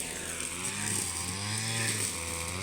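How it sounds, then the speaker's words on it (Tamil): A petrol-powered brush cutter cutting scrub runs at a steady high-revving buzz, close and continuous, with a slight rise and fall in pitch as the blade works. "இதுதானுங்க மிஷின், பெட்ரோல் ஓடுற மிஷினு"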